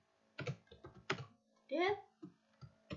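Keys clatter on a computer keyboard in short bursts of close clicks, mixed with a voice talking at intervals.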